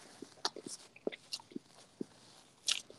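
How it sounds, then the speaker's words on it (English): Someone chews a bite of pizza close to the mic: soft, irregular crunches and wet smacks, quiet and uneven in rhythm. "I'm just loving hearing the sound of you chew on your pizza."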